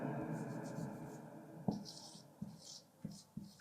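A pen scratches across paper during a math lesson, with soft continuous strokes and several sharp taps. A voice talks quietly beneath the writing.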